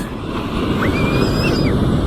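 Waves breaking close to shore at Sayulita beach in Mexico, a loud, steady roar of surf with wind, plus a few faint high whistling tones over the wash.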